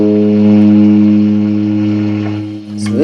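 A 1976 Music Man StingRay bass with a single open A string plucked and left to ring, a loud sustained low hum that slowly fades, with a faint scratchy noise near the end.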